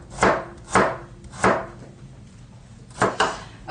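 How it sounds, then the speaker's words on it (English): A knife cuts vegetables on the diagonal on a cutting board, five crisp, fairly loud chops spaced unevenly with a pause before the last pair, no voices. "I like to cut them on the diagonal because, again, it makes them bigger, easier to grab with a chopstick."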